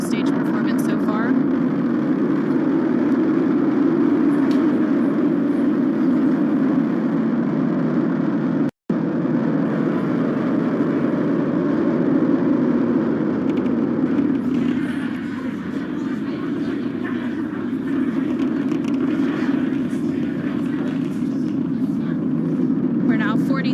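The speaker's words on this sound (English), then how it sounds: "7 million pounds of thrust, now propelling Falcon 9 and Crew-10." Falcon 9 rocket engines carrying Crew-10 toward orbit, a steady, loud low roar of thrust sustained throughout with one brief dropout, commentary voices running over it.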